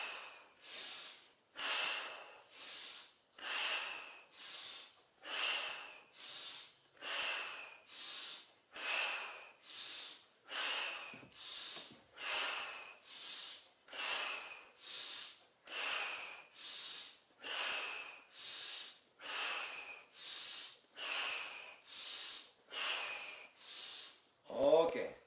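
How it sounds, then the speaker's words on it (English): Rhythmic nasal breathing during a guided group breathing exercise, about twenty steady, evenly paced breaths through the nose, each a soft airy rush rising and falling, close and moderately loud, with no talking. "Inhale up through the nose,"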